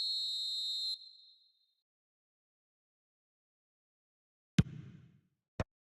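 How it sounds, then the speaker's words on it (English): A referee's whistle in the eFootball 2026 football video game gives a single steady high blast lasting about a second, then fades into silence, followed later by two short sharp knocks. "Referee looks at his watch and blows his whistle."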